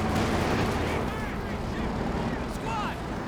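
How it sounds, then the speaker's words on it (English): Gunfire in the World War II strategy game Company of Heroes 2, a dense, continuous battle din of shots and heavy rumble sitting under faint background speech. "So he does fire some shots over there"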